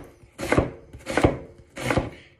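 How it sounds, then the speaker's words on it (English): A kitchen knife slicing an onion on a cutting board, three crisp, evenly spaced cuts, each with a short crunch ending in a solid knock against the board, close and clear. "roll the knife, nice thin slices of onion"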